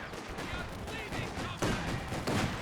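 Rapid gunfire and explosive impacts from Company of Heroes 2 as units shoot at sandbags in a WWII battle, a steady dense clatter that swells louder toward the end, with a voice talking over it.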